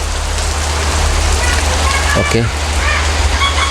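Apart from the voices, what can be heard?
heavy rain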